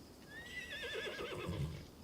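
A horse neighs in a long, rising then wavering whinny from the video game Crimson Desert, with softer hoof-like thuds underneath toward the end.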